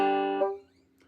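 A single plucked banjo note slides upward in pitch to the fourth fret, rings briefly, then fades into quiet.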